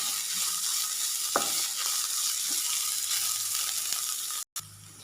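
Ginger and shallots sizzle steadily in hot oil in a pan for a sauté before making a yogurt relish, with occasional stirring scrapes over the constant frying hiss and a brief cut near the end.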